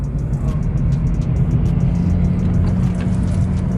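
Honda Civic Si engine revving hard in a low gear, a loud, steady, close droning roar that holds without a break and with no talking.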